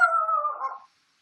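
A dog gives a single short, clear howl that holds steady and then fades out after under a second, close and alone, with silence following.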